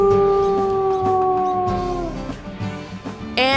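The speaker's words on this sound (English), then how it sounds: "And this is his howl." A wolf howl from the video game WolfQuest, a loud sustained tonal howl that slowly falls in pitch, followed by softer whimpering yips and a rising cry at the end.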